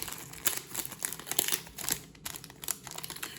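Slippery trading cards from a Senpai Goddess Haven Vol 2 box being handled, giving a quick series of crisp crinkling and rustling bursts, close and fairly quiet, with a faint hum beneath.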